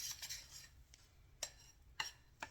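A butter knife spreads frosting on an old-fashioned butter cake with added chocolate, making quiet scraping strokes and a few light metallic taps close by, with no voices.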